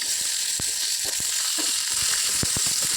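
Chana dal, coriander seeds and cumin seeds fry in a pan for dondakaya chutney, giving a steady bright sizzle broken by scattered small pops and scrapes of stirring.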